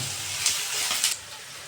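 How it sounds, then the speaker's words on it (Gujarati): Onions frying in a pan for Rajasthani sev tamatar sabji, a steady close sizzle with brief louder bursts of stirring, no voices. "આપણી ડુંગળી બરાબર શેકાઈ ગઈ છે."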